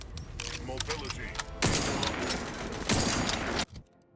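Rapid bursts of gunfire in The Outer Worlds 2, dense and loud, sustained fire pausing briefly then resuming before cutting off abruptly near the end.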